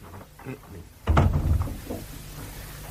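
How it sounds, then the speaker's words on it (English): A door shuts with a firm, close thump in a Cold War thriller radio drama, following soft footsteps and rustling, with a low room tone lingering afterward. "And close the door."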